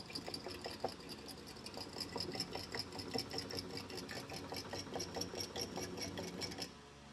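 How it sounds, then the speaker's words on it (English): A Harbor Freight jiggler pump draws fuel out of a Scout 155 boat. It makes a fast, steady rhythmic ticking and sloshing of liquid close by, which runs continuously and then stops abruptly near the end. "I'm going to try the old Harbor Freight jiggler pump here"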